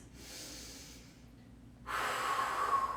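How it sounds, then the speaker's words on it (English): Deep breathing during a Pilates class: a soft, drawn-out breath fades away, then after a short pause a louder, steady breath follows, close and alone with no talking. "A few more deep breaths"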